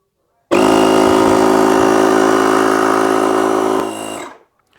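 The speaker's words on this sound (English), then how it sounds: "Pumping up bicycle pumps is simple as putting in the stem and valve." A LOKITHOR JA400 jump starter's built-in air compressor runs steadily while pumping a bicycle tire, a loud continuous mechanical buzz that holds for about three seconds, then fades and cuts off.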